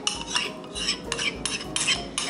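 Chia seeds go into a bowl of vegan pancake batter and get stirred: repeated scraping and clinking of a utensil against the bowl in short, evenly spaced bursts, close and moderately quiet.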